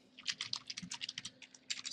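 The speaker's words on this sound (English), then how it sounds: "So all the basic stuff I am typing here, hash include." C++ code being typed on a computer keyboard: a steady, fairly quiet stream of key clicks in an irregular rhythm, close by, with no talk.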